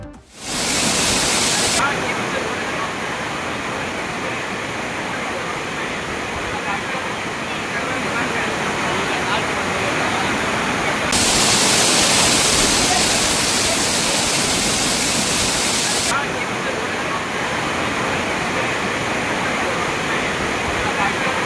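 Heavy water gushes down the Courtallam waterfall in Tenkasi as a loud, continuous roar, swelling briefly partway through and holding steady for the full stretch.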